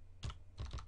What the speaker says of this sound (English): we'll just type in the name of the site we've just set up